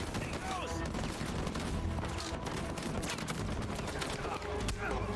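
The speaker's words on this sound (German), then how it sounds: "du kannst schießen mit deinem MG" Dense, continuous machine gun fire and overlapping gunshots in the video game Uncharted 4, loud and sustained, with voices talking under the shooting.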